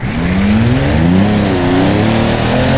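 A Land Rover Defender in the BeamNG driving game revs hard at speed, its loud engine tone climbing steadily and close up with no voices over it.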